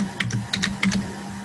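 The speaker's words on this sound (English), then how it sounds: "Is someone typing?" Quick, irregular keystrokes on a computer keyboard, a handful of clicks in short bursts close by over a low steady hum, with no talking.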